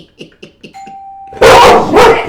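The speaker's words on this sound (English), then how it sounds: "They ring the doorbell for a package." A dog barks several times in quick succession, then a doorbell rings with a clear two-tone chime, followed by loud, close barking bursts from the dog.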